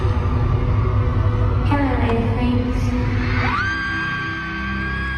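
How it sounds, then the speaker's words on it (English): A concert crowd roars loudly and continuously at the start of a show, with a dense wall of screams and a rising whoop near the end. "Everyone starts screaming."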